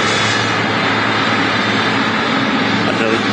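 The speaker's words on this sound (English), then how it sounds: "the sound of the Qatar Airways triple as well" A Qatar Airways Boeing 777 at Manchester Airport roars loudly and continuously, its broad jet-engine rumble steady throughout.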